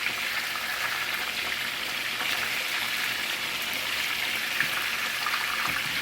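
Chicken frying in a non-stick pan, a loud continuous hiss and crackle of hot oil, steady throughout with occasional small pops.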